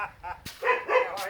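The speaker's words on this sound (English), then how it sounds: "here come the dogs" Dogs let out a few sharp barks and yips in short bursts, fairly close, with some background noise between them.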